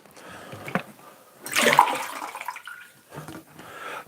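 Water gushes out of a 5-litre bottle in a strong central pour lasting about a second, then fades into smaller splashes and dribbles with brief quieter bursts before and after.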